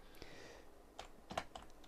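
Quiet keystrokes tap on a computer keyboard while times are entered into an Excel spreadsheet, a few scattered light clicks with a small cluster near the end, faint and close, with no talk.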